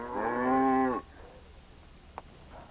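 A cow gives one long, loud, low moo lasting about a second, followed by quiet background with a faint brief knock and a soft distant sound.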